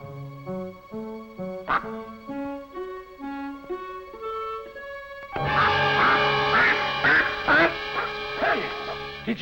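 A duck named Clarence quacks in a series of nasal calls over a stepping musical backing, growing louder and denser in the second half amid a busy, cartoonish mix.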